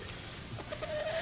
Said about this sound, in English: Dougie, what are you doing with that chicken?